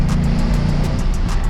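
Lexus RC F engine pulling steadily in third gear on the Susten Pass mountain road in Switzerland, a continuous loud low drone with road and wind noise, no talking.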